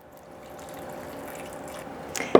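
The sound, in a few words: water poured into blender for soup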